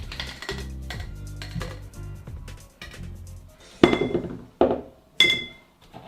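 Metal cocktail shaker tins struck to break their seal, giving a few sharp clanking knocks with metallic ring toward the end, preceded by rattling and clinking of ice cubes in the shaker.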